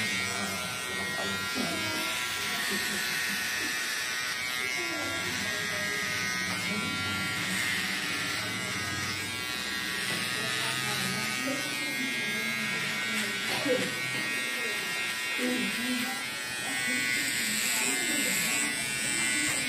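An electric razor buzzes steadily while cutting hair for a flattop haircut, a constant close hum under ongoing conversation between people in the room.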